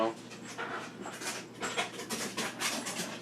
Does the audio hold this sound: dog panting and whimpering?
yes